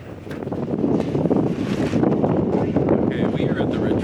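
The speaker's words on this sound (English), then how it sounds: "I'm not sure you can even hear me from the wind." Strong wind gusts roar across the microphone beside a Santorini retreat pool, a steady, loud rushing that swells and buffets for the whole stretch, with a voice talking underneath.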